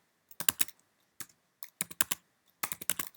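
Keystrokes on a computer keyboard come in quick, close clusters of crisp clicks separated by short pauses while text is entered in the vi editor, with no one talking.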